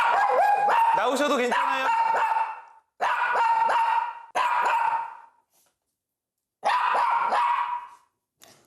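A pet dog barks and yips insistently in loud, close bursts, with several stretches of continuous barking separated by short pauses; a person speaks briefly among the barks.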